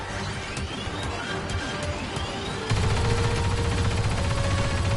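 Heavy gunfire from a big gun in Star Wars Battlefront II, a dense sustained roar of shots over game noise that steps up louder and fuller partway through and keeps pounding to the end.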